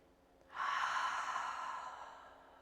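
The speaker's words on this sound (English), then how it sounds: "Give yourself a cleansing breath." A single long cleansing exhale during a guided breathing exercise, a soft airy breath that swells in quickly, holds steady and fades slowly, heard close and alone with no talk.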